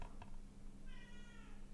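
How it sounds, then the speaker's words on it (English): A pet cat meows insistently indoors with a snowy day outside, one short call followed by a longer, wavering meow that holds steady at close range against a low background hum. "My cat is yelling at me."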